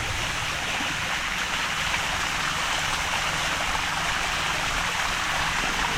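Water rushes steadily from a falls into a bathing pool, a continuous broadband roar with splashing texture that holds evenly throughout without pause.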